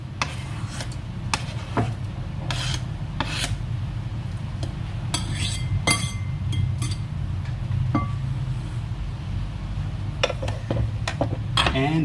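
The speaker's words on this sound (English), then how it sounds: "I'm gonna put this in a bowl." Mashed aubergine goes into a bowl for baba ganoush with repeated clinks and scrapes of a utensil against dishware. The sharp, irregular taps are close-up, over a steady low background hum.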